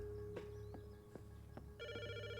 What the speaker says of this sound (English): Ugh, I'm not answering the bloody phone anymore.